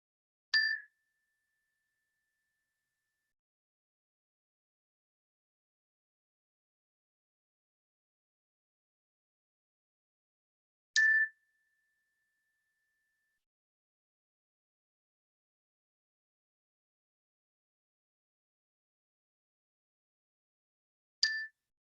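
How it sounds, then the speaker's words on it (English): A meditation bell is struck three times, each a clear, bright ding ringing briefly, spaced about ten seconds apart in near-total silence. "I'm going to ring the bell 3 times to start"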